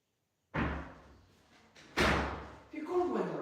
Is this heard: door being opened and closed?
yes